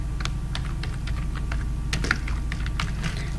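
Quick irregular keystrokes clatter on a computer keyboard while entering data into an MS Access query, close and steady over a low background hum, with no one speaking.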